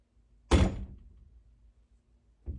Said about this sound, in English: Sorry, I shut this door.